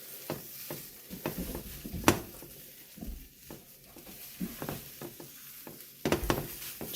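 Chocolate chip protein scrambled eggs sizzle in a pan, with a faint steady frying crackle broken by scraping stirs and sharp clinks of a utensil against the pan, and no talking.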